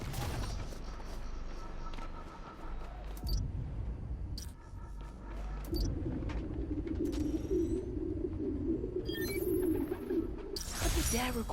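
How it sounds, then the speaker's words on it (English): Pigeons coo in a city park, a soft, steady low warble that rises and continues through the middle of the recording, with faint flutters and scattered clicks over a background hum. "The place was swarming with pigeons."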